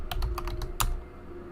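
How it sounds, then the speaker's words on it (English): Quick bursts of clicking keystrokes on a computer keyboard, about half a dozen taps in an uneven rhythm with one sharper stroke, close and clear over a faint steady hum. "I keep misspelling when I'm typing"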